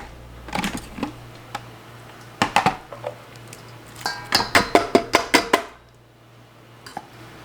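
A spiky-toothed spoon tool cores raw tomatoes, making a series of quick scraping, clicking strokes that come in bursts, with a rapid run of sharp scrapes near the end, close and moderately loud.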